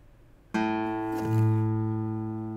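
A single guitar A string is plucked once, ringing out with a sustained, humming low note that swells slightly and slowly fades.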